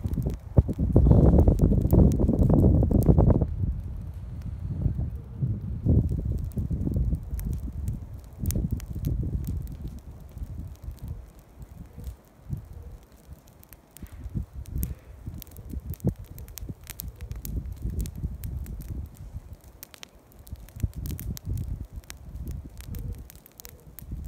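Low-intensity prescribed burn through invasive Himalayan blackberry, a dense crackling and popping, loudest at first, then settling into a scattered, uneven crackle over a windy outdoor rumble.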